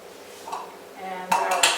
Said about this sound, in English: And we'll ladle it into our jars.